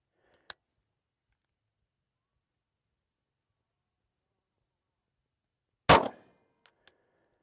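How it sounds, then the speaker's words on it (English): A Taurus G3 9mm pistol fired at a range from 7 yards, one loud, sharp report standing out against near silence, with a couple of faint clicks before and after. "we're going to fire a 3-shot group and just see how it shoots"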